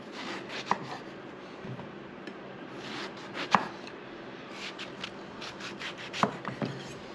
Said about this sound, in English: now we're gonna slice this up. I'm gonna slice this up about 1 centimeter in thickness